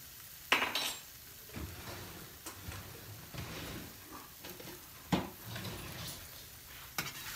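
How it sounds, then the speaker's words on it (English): A big soup spoon scoops flour for a homemade mushroom soup roux, with a few sharp clinks of metal against a container and soft scraping and rustling in between, close and fairly quiet. "we'll just take maybe a couple spoons of flour. This is like a big soup spoon."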